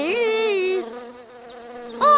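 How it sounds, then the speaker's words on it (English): An insect buzzing near a chick's ears, a loud tonal drone that wavers in pitch for under a second, fades to a softer hum, then swells again in a short, sharp burst. "You did buzz near the chick's ears."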